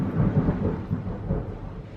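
Thunder rumbling outside, a low continuous roll with a soft hiss of rain, steady and moderately loud with no talking.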